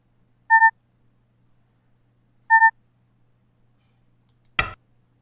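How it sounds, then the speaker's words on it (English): A computer emits two short, identical electronic double-tone beeps about two seconds apart in an otherwise quiet room, followed by a brief clunk. "Stop beeping at me."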